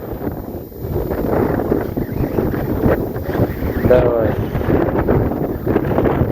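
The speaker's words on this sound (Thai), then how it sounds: "ลมคักลมแน่เนาะ" Strong wind gusting over open salt fields in Laos, a steady loud rush and microphone buffeting throughout, with a voice speaking briefly near the middle.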